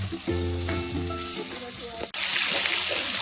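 Fish frying in garlic-and-pepper-seasoned oil at a Jamaican backyard cook-up, with a steady close sizzle that swells louder partway through, while a low musical hum and faint talk run underneath.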